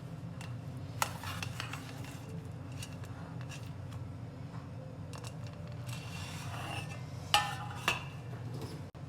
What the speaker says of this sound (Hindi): इसको काट के चेक करते हैं।